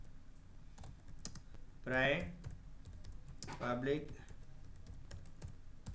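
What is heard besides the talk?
typing on a computer keyboard in MS Word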